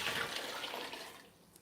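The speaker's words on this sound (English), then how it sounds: "let me add in my water" Water pours steadily from a 3-gallon container into a pot for broth, a continuous soft splashing rush that tapers off toward the end, heard alone without talking.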